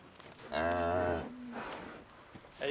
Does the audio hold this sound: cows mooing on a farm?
yes